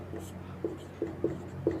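Pen or chalk strokes as an answer is written out in a classroom exercise solution: a few soft, short scratching taps at a steady pace over a quiet room hum.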